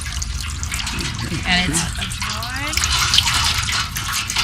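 Water gushing and splashing as clothes are squeezed through hand-turned wringer rollers, a steady wet pour under children's and adults' voices talking nearby.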